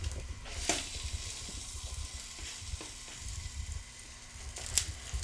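A fruity flapjack fries in oil in a pan just after being flipped, with a continuous close sizzle and crackle and a couple of light utensil clicks, and no one speaking.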